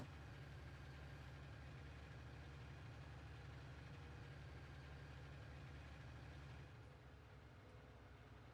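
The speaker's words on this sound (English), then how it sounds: "let's get this tractor out of the way" Tractor engine in a farming video game, a steady low idling drone that stays even and fairly quiet throughout, with no talk over it.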